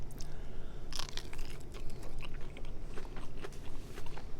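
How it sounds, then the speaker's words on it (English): A breaded, deep-fried crab lump crunches through a series of crisp bites and chewing close to the mouth, with irregular snaps and crackles repeating over several seconds. "It's got a nice crunch to it too"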